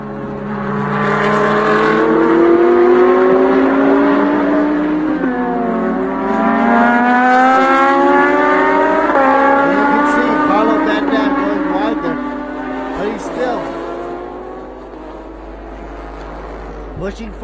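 Race cars including a Ferrari, an Audi and a Lamborghini roar past at the TSS 2019 race, engines revving up and down through gear changes, loud and sustained, with a commentator talking over them.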